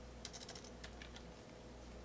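A quick burst of typing on a computer keyboard, several soft rapid key clicks followed by a few scattered taps, faint and close over a steady background hum.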